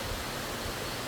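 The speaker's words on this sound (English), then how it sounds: "His pipe has water gushing coming down." Spring water gushing out of a pipe that channels it to houses, a steady, dense rushing wash filling the whole clip at close range with no let-up.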